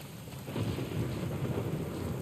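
Low thunder rumbles through a rainy scene in The Last of Us Part 1, swelling after a brief quiet start into a sustained, deep roll layered with steady rain hiss.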